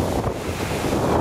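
Wind buffets a microphone beside a flowing river current, a steady broadband rush with no pauses and no voices, close and fairly loud throughout.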